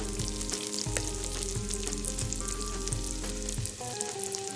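Pepperoni and sopressata sizzle and render in a soup pot, a steady close crackling fry with faint stirring clinks, building a base for Zuppa Toscana.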